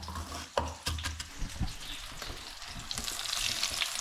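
Fish pieces sizzle in ghee in a hot pan, a close, steady frying crackle with a few sharp spits and clinks as the pieces go in.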